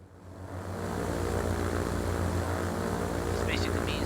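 Propeller airplane engine drone in the Transport Fever 2 video game, a steady loud hum that swells over the first second and holds, with game music or ambience layered on top.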